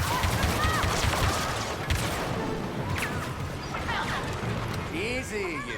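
Blaster gunfire in Star Wars: Battlefront II crackles in rapid bursts through a busy battle mix of shots and effects, with voices talking over much of it.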